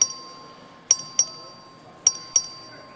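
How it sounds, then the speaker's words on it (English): A clerk rings the voting bell on the Texas House floor: five sharp, bright metallic dings in an uneven pattern, each ringing out briefly before fading, with no talking. "The clerk will ring the bell."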